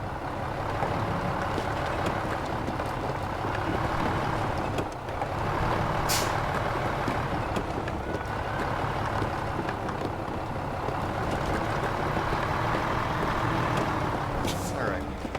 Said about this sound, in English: I hate backing these trailers up